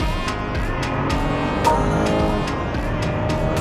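A BMW 5 Series long-wheelbase in boost mode under hard, full-pedal acceleration: a steady, loud engine drone with a rising tonal whine, and faint clicks or shift blips scattered through it.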